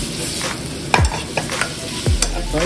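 Hotdogs sauté in a pan with a steady sizzle and fry, broken by two sharp scraping stirs of a utensil against the pan, close and fairly loud with no voices.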